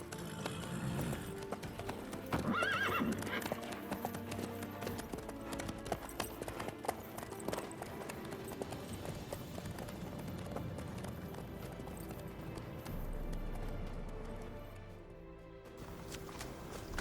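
A horse gallops in The Witcher 3, its hooves beating a steady, rapid clip-clop under a dense wash of game sound that carries on for most of the stretch before easing near the end.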